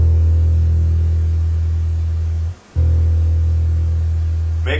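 A deep, sustained low E note on a bass guitar rings steadily, breaks off briefly, then sounds again, with a faint hum underneath and a small click at the end.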